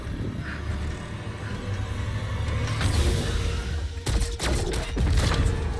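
A pistol fires in a video game, with a few sharp cracks standing out near the end against a dense, rumbling background of game noise.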